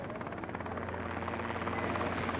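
A helicopter flies at an antique fly-in airshow, and its steady, chopping rotor thrum goes on without a break. The sound is fairly loud and swells slightly as the clip goes on.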